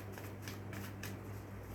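Tarot cards shuffled and shifted by hand in quiet, close, soft papery riffles and slides repeating over a low steady hum.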